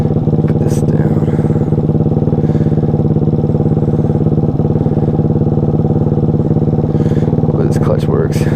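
A Daytona FE 190cc 4-valve engine in a Grom clone motorcycle runs loud and close with a steady mid-pitched thrum, while a person talks briefly over it.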